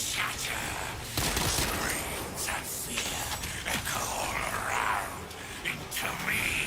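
Rapid video game gunfire hits a player in Space Marine 2, loud mechanical clattering bursts and crackling shots layered continuously, with a person talking over the noise.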